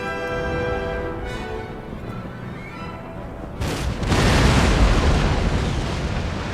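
A cannon firing canister or grape shot in an 18th-century colonial strategy game: a sudden loud blast cuts through a sustained tonal hum and leaves a broad rumbling wash that slowly fades.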